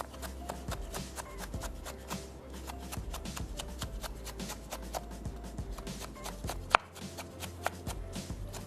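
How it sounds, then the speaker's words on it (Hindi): A knife taps quickly and steadily on a cutting board as a vegetable is cut into julienne strips with the peel still on. The rapid, close chopping runs throughout, with one sharper knock near the end and no voices. "और उसके बाद इसको हमने जूलियन काट लेना है।"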